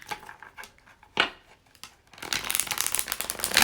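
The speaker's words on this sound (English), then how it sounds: "reshuffling them. I'm just in a shuffling kind of mood right now." Playing cards are shuffled during a weekly card reading, the riffle building into a dense run of rapid snapping flutters in the second half after a few scattered soft card handling sounds, close and fairly loud, no talking.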